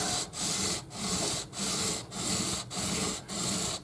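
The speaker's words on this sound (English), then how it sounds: "You can kind of hear that cutting" A Strat guitar neck is worked by hand, a loud, close rasping sound in steady back-and-forth strokes, about six even passes with short pauses between each.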